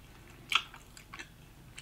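Someone chews a mouthful of Thai pork belly pad thai, making a few soft, close, moist bites and squishes at a quiet level, with no speech.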